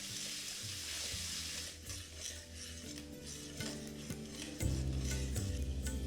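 Tomato paste cooking in a pan with turmeric and chili powder for a Bengali bata fish curry, a soft sizzle under scraping stirs and clinks of a utensil, with a louder low bubbling stretch toward the end.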